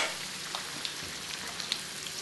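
Toffee apples, three at once, fry in hot oil with a steady soft crackling sizzle, small pops breaking through now and then, close and moderately quiet with no voices.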